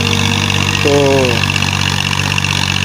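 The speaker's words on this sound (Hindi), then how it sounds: "कीचड़ में ज़रा मुश्किल होता है ट्रैक्टर को चलना। मुश्किल तो है, लेकिन बहुत ही मुश्किल। तो बहुत ही ज़ोर लगता है ट्रैक्टर का।" A tractor engine runs steadily and loudly while working through a muddy rice paddy during Punjab rice planting, a continuous low drone with a brief spoken word over it.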